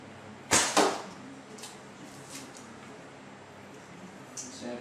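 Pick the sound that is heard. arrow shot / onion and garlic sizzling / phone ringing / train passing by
arrow shot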